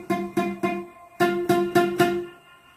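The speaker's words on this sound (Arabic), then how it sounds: "احيانا هتلاقي الصوت بيزن زي كده" A guitar string buzzing against the fret as notes are fretted and picked: seven plucked attacks, three then four after a short gap, each ringing briefly with a rattly edge, close and clear with no talking.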